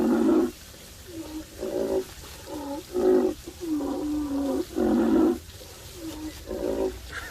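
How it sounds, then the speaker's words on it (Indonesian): A rhinoceros calls in a series of deep, moaning, grunting bursts with short pauses between them. The calls are close and fairly loud, with no talking. "Suara badak adik-adik."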